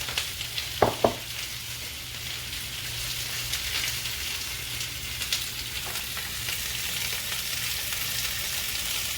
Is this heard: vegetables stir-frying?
yes